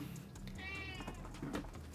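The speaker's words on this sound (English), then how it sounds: "Can you hear the cat?" A house cat meows in a drawn-out, rising-and-falling call near the start, with a shorter second meow about a second later, both over a steady indoor background hum.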